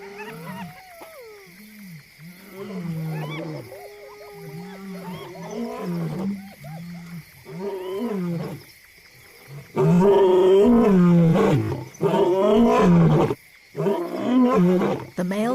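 Male lions roaring in Zambia's Luangwa Valley at night, a series of deep, grunting calls that build to loud, close bellows in the second half, with the last calls coming in closely spaced heavy bursts.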